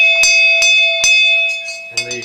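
A ship's bell from the boat Rough Sea struck three times in steady rhythm, with bright ringing tones that keep sustaining, and a voice begins speaking near the end.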